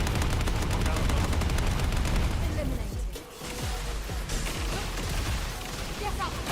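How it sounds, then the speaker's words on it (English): Sustained suppressing gunfire from air support in a shooter game: dense, loud automatic fire and explosive bursts roll on almost continuously, dip briefly partway, then resume with scattered pops and impacts, with speech partly under it. "On your signal, we'll initiate suppressing fire."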